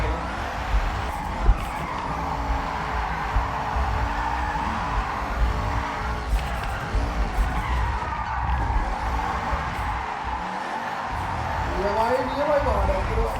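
A car drifts in Forza Horizon 6, tires skidding and squealing over a revving race engine, with a voice talking throughout.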